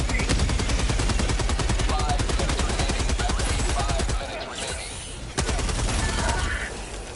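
Rapid, dense automatic gunfire from a shooter video game, loud and continuous for about four seconds before breaking off, then a single sharp shot and more scattered firing with ambient game noise.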